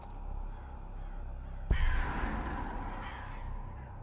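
Crows cawing in an eerie video game scene: a low ambient bed, then a sudden thump followed by a few hoarse caws that sound moderately distant.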